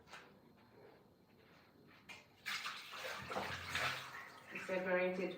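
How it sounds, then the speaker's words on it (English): Rice being washed in water in a home kitchen, with splashing and swishing that grows louder and busier toward the end, while a voice talks faintly underneath. "first you're gonna wash the rice like you always do"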